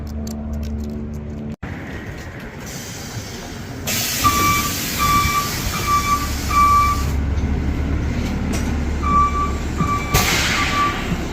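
A Baltimore city bus pulls up on a winter street and stops, its engine rumbling loud and close, with air-brake hisses and a string of repeated reversing-style beeps.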